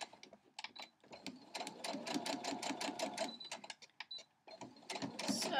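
A sewing machine stitches a sawtooth star quilt block in fast rattling bursts with short pauses, close and steady, the bobbin thread nearly running out.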